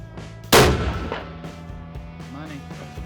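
A single loud rifle shot at an outdoor rifle range, a sharp close crack with a trailing echo, amid faint background sounds.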